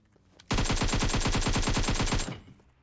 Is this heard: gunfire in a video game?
yes